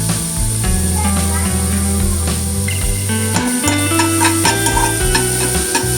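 Onions with a pinch of salt sizzle in butter in a pan for chicken samosa filling, stirred steadily throughout, close and fairly loud over a continuous frying hiss, with a faint tonal background running alongside.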